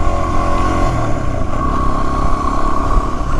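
A motorcycle rides a backcountry trail in Wyoming, its engine droning loud and steady close by with a rough, clattering edge and no break.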